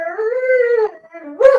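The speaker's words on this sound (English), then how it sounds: "Roxy, calm down, puppy." Roxy, a dog, lets out a long wavering whine that rises and falls, then a short sharp yelp at the end, close and loud.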